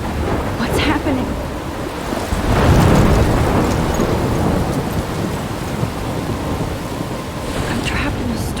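A thunderstorm in the game Life Is Strange: heavy rain and wind with a loud rolling thunder swell near the middle and brief crackling strikes, continuous and close.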